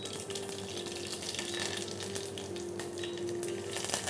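Mustard seeds and curry leaves sizzle and crackle in hot oil in a pan, a steady, moderately quiet frying hiss with small pops scattered through it.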